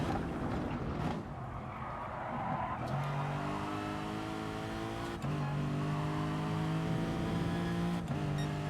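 Race car in Gran Turismo Sport braking late into a corner: a steady engine drone with tyre noise, then the engine note dropping and rising in stepped gear changes, loud and continuous.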